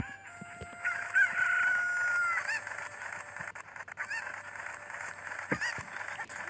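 Chickens cluck and a rooster-like crow sounds in The Legend of Zelda: Ocarina of Time, bird calls rising over a steady game background hum with a few sharp clicks, no talking.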